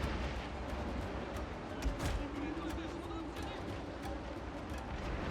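Naval battle in the Total War: Shogun 2 game, with bombs exploding over a dense rumbling din of cannon fire and booms, one sharper blast standing out midway, under a steady wash of battle noise.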